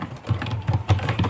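Keys tapped on a computer keyboard while entering data into an Excel spreadsheet, a quick irregular run of close, moderately loud clicks with no voice over them.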